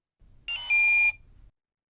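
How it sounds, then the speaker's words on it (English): RealCare Baby 4 infant simulator doll giving a short electronic chime, a brief bright tone that rises in level and cuts off cleanly within about a second, with a low hum beneath it. "the baby's going to chime"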